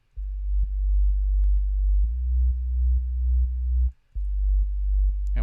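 An electronic mix has its kick sidechained to a low sine bass, so the bass ducks on each beat, giving a steady pumping pulse about twice a second, briefly cut near the end.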